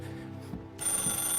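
A telephone in the game Mafia starts a ringing tone partway through, a bright bell-like ring cutting in over low background music.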